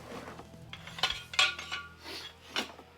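A small metal drain pan set down in a workshop, a few light clinks and scraping metallic rattles close by, brief and alone without talk.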